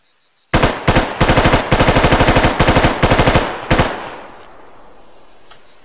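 Full-automatic fire from an M27 IAR rifle in a video game weapons mod: several rapid bursts of sharp, loud, evenly spaced shots over about three seconds, ending with a brief single burst and a fading echo.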